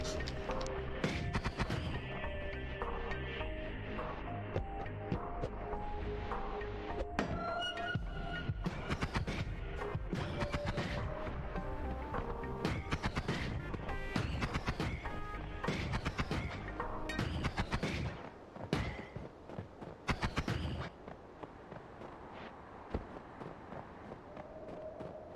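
Energy Sphere spell in the game Noita: a dense, continuous barrage of loud thumping impacts and crackling bursts, steady for most of the clip, thinning out near the end.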